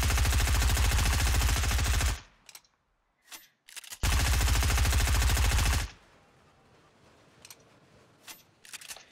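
Fortnite automatic weapon fire pours out in two long, loud sustained bursts of rapid shots, separated by a quiet gap with a few faint clicks and followed by sparse lighter sounds.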